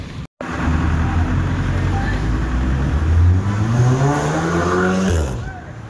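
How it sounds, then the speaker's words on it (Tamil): A car drives past on a Bangalore street, its engine note rising and shifting steadily as it passes close by, loud and continuous for several seconds after a brief silence at the start. "கார் சின்னதாக இங்கே டாக்ஸியாக போகுது."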